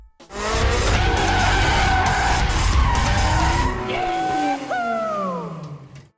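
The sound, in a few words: car drifting with skidding tires, Fast and Furious film scene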